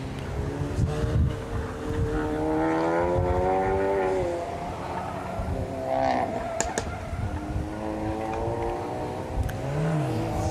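A Golf autocross car launches off the start line at a stadium event, its engine note rising in steady harmonic sweeps as it accelerates away and shifts, loud and continuous over the whole stretch with some crowd or wind noise beneath.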